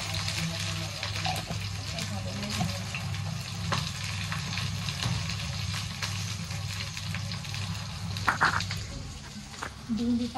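Okra (bhindi) frying in oil with salt in a pan, a steady low sizzle and crackle running throughout, faint and close, with someone speaking over it and occasional utensil clinks.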